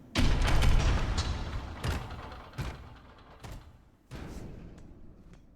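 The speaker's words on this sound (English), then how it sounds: "I'm opening the door." A door opening in the Silksong video game: a heavy thump followed by several mechanical clunks and thuds spaced about a second apart, moderately loud and close, with no talk.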